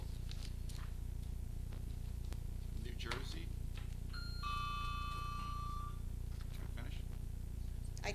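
Electronic timer going off in a township council meeting room, a held beeping tone lasting about two seconds over steady room hum, with scattered clicks and shuffling around it.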